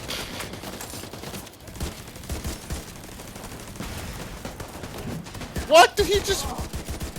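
Rapid turret gunfire in a video game, a continuous crackling burst of shots running under excited talk from several players.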